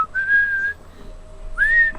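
A person whistles a simple tune close to the microphone, two clear sustained notes separated by a short pause.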